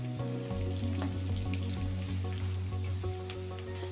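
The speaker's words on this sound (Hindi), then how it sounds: "अभी 2 मिनट में प्याज लहसुन ये सभी मसाला को फ्राई कर लेंगे।" Onion, garlic, cumin and red chillies fry in hot oil for pumpkin sabzi, giving a steady close sizzle with crackles and stirring clinks throughout, and no voices.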